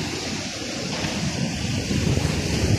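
Big sea waves roll and crash on a rocky beach, a continuous loud roar of surf mixed with wind buffeting the microphone, swelling toward the end, with no one talking.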